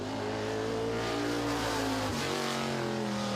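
The engine of the number 51 Midwest Modified race car roars steadily on track, loud and close, its pitch holding and then dropping briefly partway through, with no voices.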